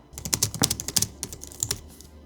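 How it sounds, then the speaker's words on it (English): Typing on a Logitech Craft keyboard produces a quick, close burst of crisp, laptop-like key clicks in an uneven rhythm, with a short pause before a final few strokes and no talking. "This is what typing experience is like on Craft Keyboard."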